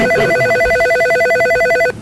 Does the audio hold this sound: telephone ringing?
yes